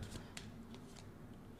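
Tarot cards being shuffled by hand, quiet riffling and soft snapping bursts in a loose irregular rhythm, close but faint, with no talking.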